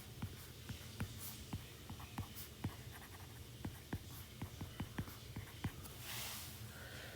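A pen or pencil scratches across paper in quick, regular strokes while a molecular structure is drawn out by hand, faint and close, with a soft low hum underneath.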